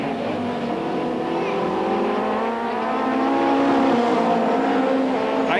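A 1990 British Touring Car Championship race: a Ford Sierra and other touring cars roar past on the circuit, a steady loud engine drone that rises and swells as they pass, with commentary over it.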